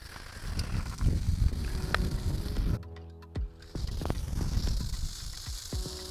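Steaks cooking for a steak sandwich give off a steady, close sizzle with scattered crackles and pops. The sizzle drops away briefly partway through, then resumes.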